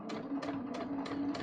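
Sewing machine stitching through fabric while a neckline is being adjusted, heard as a steady run of rhythmic needle pulses with a whirring motor hum, close and continuous.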